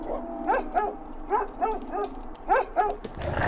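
Dogs bark in empty, abandoned city streets, repeated sharp barks in three quick bursts of two or three, fairly close and loud over a faint low rumble.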